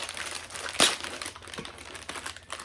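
Crinkling plastic wrapper of a package of Star Wars Oreo cookies being torn open, with one sharp rip standing out above steady rustling and handling noise close by.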